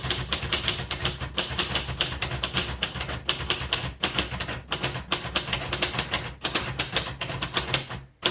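Steady fast typing on a green 1973 Royal Sabre portable manual typewriter, a close, loud run of crisp keystrokes and typebar clacks with brief pauses, heard alone.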